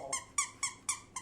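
Five squeaky toy squeaks from a dog's chew toy come in a regular, quick series, each one short, bright and high-pitched, fairly close and with no talking over them.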